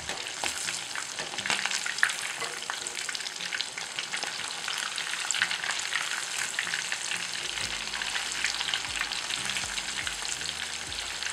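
Mozzarella sticks fry in hot oil with a steady, close crackling sizzle that runs the whole time, sharper pops and a few stirring or flipping clatters breaking through, with no talking.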